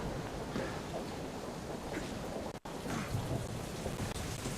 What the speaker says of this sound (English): Damn storm.